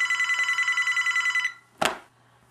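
A telephone rings with a rapid electronic trill, repeating pulses for about a second and a half before cutting off, followed by a sharp clunk like a handset being picked up.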